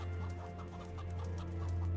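Video-game chicken from ATOM RPG: Trudograd on PS5 giving a quick run of rhythmic clucks over a droning background hum, close and moderately loud, with no voices.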